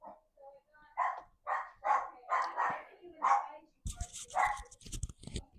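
A pet dog barks repeatedly indoors, a rapid run of sharp, close yips and barks with whimpering notes, while people talk over it near the end.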